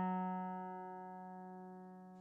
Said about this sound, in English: Okay, so the next string is an F sharp.